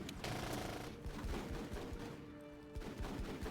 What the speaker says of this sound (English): We're taking some fire.